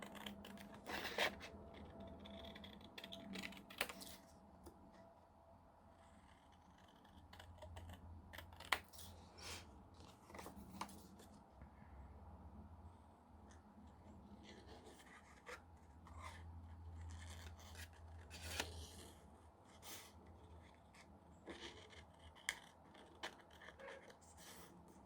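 Scissors cutting scrap paper for journaling cards at a desk, faint close snips and crisp rustling with scattered light taps and rubbing, quiet and steady throughout.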